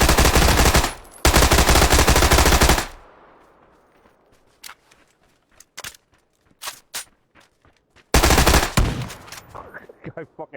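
Automatic gunfire in the shooter game PUBG: two long, loud bursts of rapid fire, a quieter stretch of scattered single shots and footstep-like clicks, then another loud burst near the end.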